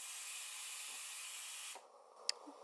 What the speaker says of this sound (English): Going to clean the spout and let just a little bit of steam so that any residual milk